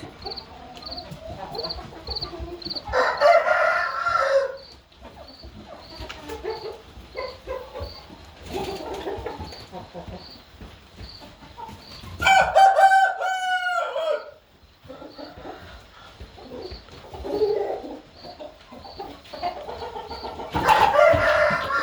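Roosters crowing loudly in a chicken yard, several long cock-a-doodle-doo calls repeating close by over steady background clucking, with a dog barking now and then.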